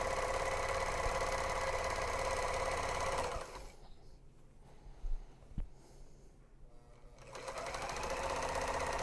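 A serger running steadily on grime guards, a loud dense mechanical whir that stops partway through, leaving a few seconds of quiet with small clicks and handling sounds, then starts up again.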